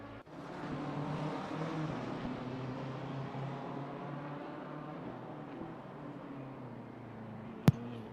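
Race car engine droning steadily as it enters the pit lane at Monza in Assetto Corsa Competizione, a continuous mid-level hum with no talk, ending with a brief sharp click.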